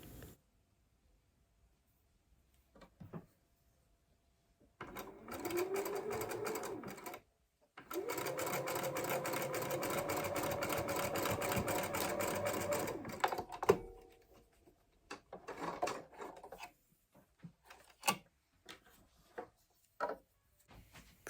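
A sewing machine stitches a scant quarter-inch seam on a quilt block, a steady mechanical whir in a few runs of several seconds, with stops and faint handling clicks between them.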